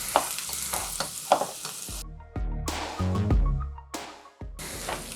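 Sandwich rolls toast on a greasy griddle with onion bits, sizzling loudly and close while a spatula scrapes and clatters in uneven bursts, with no one speaking.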